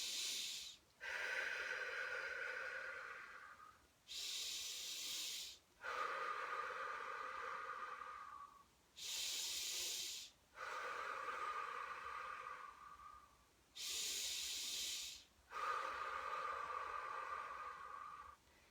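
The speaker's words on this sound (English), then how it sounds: "Keep the breathing going." Deep, forceful breaths during a guided breathing exercise done lying down: strong inhales alternating with exhales in a steady repeating rhythm, each lasting a few seconds, close and loud with no talking.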